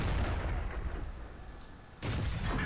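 Tank battle in World of Tanks, with a deep rumbling barrage of cannon fire and explosions filling the clip and a second heavy boom landing abruptly near the end.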